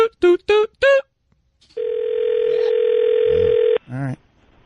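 A single long, steady electronic telephone ring tone on a live radio-show call, loud and continuous for about two seconds, preceded by a few short voiced beeps and followed by a brief voice.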